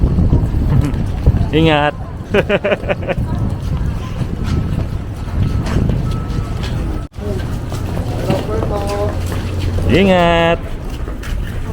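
Boarding the Montenegro RoRo ferry bound for Puerto Galera: a loud, windy rumble of ship and harbor noise with people talking and calling out over it, and twice a long, wavering horn or whistle blast.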